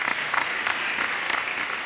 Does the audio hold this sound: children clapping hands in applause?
yes